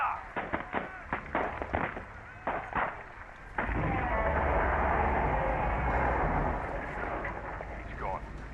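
Gunfire in Call of the Sea: a rapid string of sharp, separate shots rattles out for a few seconds, then gives way to a loud, sustained roaring rush. No one speaks over it.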